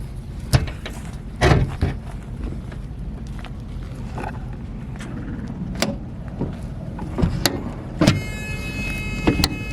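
A storage compartment on a semi truck being shut, with scattered clanks, knocks and latching thuds over a steady low engine rumble, fairly close, with no talking.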